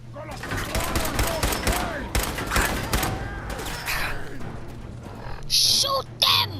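Gunfights in Fallout 4, with volleys of shots crackling through a busy mix of game noise, and a couple of sharper, louder reports near the end.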